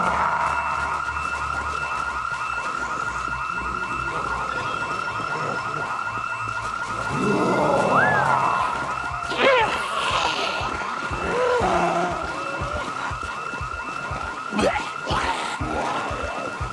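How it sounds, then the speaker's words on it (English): A fire alarm rings continuously in a Project Zomboid game world, a steady electronic tone running throughout beneath game noise and scattered sounds. "If not for the fire alarm,"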